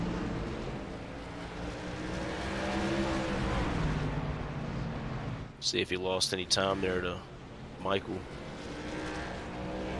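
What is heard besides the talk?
racing trucks driving by in a sim racing video game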